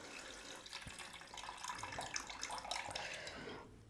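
Raw rice being rinsed in water to remove its starch: steady splashing and sloshing with running water, close and continuous, fading toward the end.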